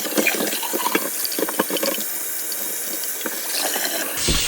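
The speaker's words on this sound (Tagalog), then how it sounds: "dito hugasan ko itong chopping board na ginamit ko kaninang nagbalat ako" Tap water runs and splashes onto a chopping board being washed in a kitchen sink after peeling vegetables, a continuous hiss with small knocks and scrubs before the flow briefly cuts out.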